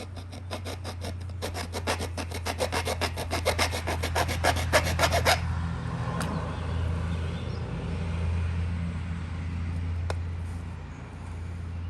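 Stone being grooved for indirect percussion knapping, a rhythmic close scraping and rasping of rapid strokes for about five seconds, then quieter handling with a low steady hum underneath.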